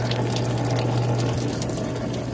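Coolant gushes steadily out of the open radiator of a 2007 Toyota Tundra into a drain pan, a continuous loud splashing pour with a low steady hum beneath, no voices.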